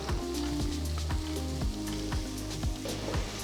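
Thinly sliced onions hit hot oil with bay leaf, cinnamon, clove, cardamom and cumin seeds for a peas pulao, giving a loud, steady sizzle broken by regular stirring scrapes.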